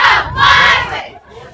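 A home crowd at a high school football playoff game roars in a loud, sustained cheer led by cheerleaders, surging twice before fading, with many voices shouting together.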